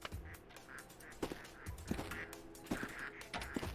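Ducks in the incremental video game Project PITT quack repeatedly in short, nasal bursts that overlap at an irregular rhythm, moderately loud and fairly close.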